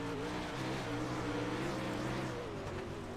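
A sprint car engine racing on the low side of the Limaland course in a racing video game, roaring steadily with shifting, rising and falling throttle tones that stay loud and constant throughout.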